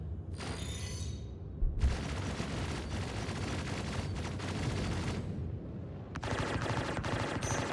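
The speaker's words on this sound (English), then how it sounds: "Yeah, these guns are quite punchy, to be fair" Ship guns fire in the space game Star Citizen, with dense, punchy sustained bursts that roar continuously for several seconds, a short pause, then another rapid volley.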